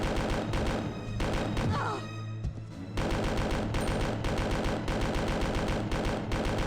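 Rapid bursts of gunfire aimed at Mr. X in Resident Evil 2 on PS1, loud and dense, with a short break midway before the shooting resumes.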